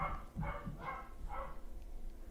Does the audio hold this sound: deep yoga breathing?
no